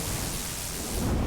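A Thunder Lance attack in Final Fantasy VII Ever Crisis hits as a steady, dense roar of crackling electric noise, rumbling underneath and holding loud and even for just over a second.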